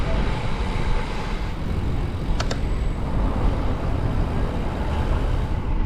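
Road traffic heard while riding a Canyon Ultimate bicycle fitted with a new 53/36 chainring through Wimbledon Village: a steady broadband rumble of passing vehicles and wind, with a brief high tone partway through.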